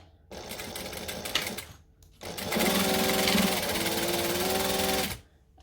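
A sewing machine stitches a seam down the side of a buckle strap project in two loud bursts, the first shorter, with the motor's steady whir between near-silent pauses.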